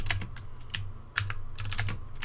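Close, steady typing on a computer keyboard, with bursts of clustered keystrokes and a couple of brief pauses, heard alone without any voice.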